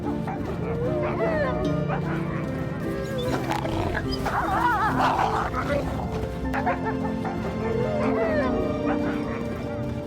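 A gray wolf pack yips, whines and vocalizes together in a dense, overlapping chorus, with wavering cries rising and falling, close and fairly loud, under a spoken voice throughout.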